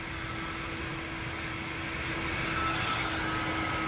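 A hair dryer runs steadily, blowing hair wrapped around a round brush, a close whirring roar with a tonal whine that swells slightly toward the end, no talking.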